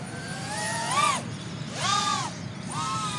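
A DJI Neo 2 FPV drone flies past, its whining rotors rising and falling in pitch as it throttles in three distinct sweeps, buzzing close over a low background hum with no talk.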